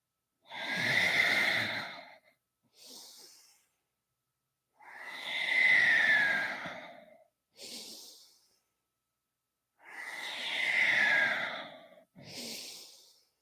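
Slow, deep Kundalini yoga breaths come close and alone: three long, airy breaths, each followed by a shorter, softer breath after a pause, in an unhurried rhythm.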